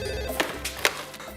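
A telephone rings in brief bursts against a busy, muffled background, with a couple of sharp electronic trills standing out over the low hum.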